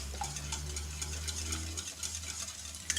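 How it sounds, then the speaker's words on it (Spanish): Three eggs being beaten in a bowl with quick, repeated scraping strokes against a steady low hum, with no one speaking. "hemos puesto los 3 huevos en un bol, ¿vale? Y los vamos a batir bien batidos"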